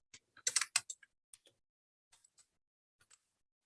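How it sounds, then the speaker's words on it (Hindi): Keys tap on a computer keyboard in a quiet room: a quick cluster of keystrokes at first, then sparse, scattered single presses trailing off. "यहाँ पे अब मैं कुछ भी लिख देता हूँ"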